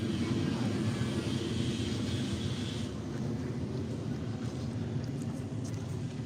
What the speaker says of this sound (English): I'm getting a good breeze right now